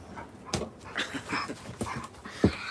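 A dog whimpers and pants close by in short, uneven bursts, with faint sniffs and a small yelp near the end, no voices over it.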